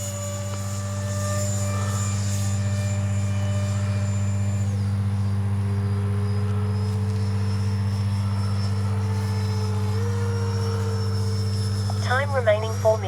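An H-King Flycat V2 RC jet plane runs with a steady, loud electric ducted-fan drone and a strong low hum, its whine shifting pitch gradually as it flies near a runway, with a brief burst of talk near the end.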